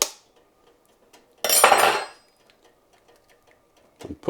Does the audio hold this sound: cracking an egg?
yes